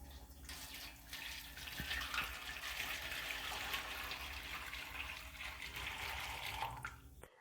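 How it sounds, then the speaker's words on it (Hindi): Leftover milk poured from one vessel into a second metal tray, a steady close liquid stream splashing and gushing for several seconds before it stops abruptly, with no talking. "बाकी दूध जो रह गया है वो भी दूसरी परात में डाल देंगे"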